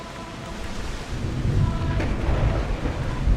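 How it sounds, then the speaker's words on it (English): Stormy weather at sea in the Assassin's Creed video game: a steady wash of rain and wind with low thunder rumbles building after the first second, one sharper crack near the middle, no talking. "Look at that storm."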